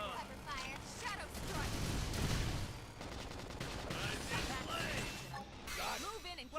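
Rapid gunfire and impact bursts from the video game Xenoblade Chronicles X, played on Switch, mixed with battle music and character voices throughout.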